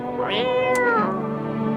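A cat in the video game No, I'm Not a Human gives one drawn-out meow that rises and then slides down, close and fairly loud, with no voices over it.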